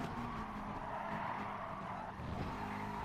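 Car in Gran Turismo Sport at Fuji losing the rear under braking, with a steady engine drone and a faint tire-scrub slide running throughout, loud and continuous.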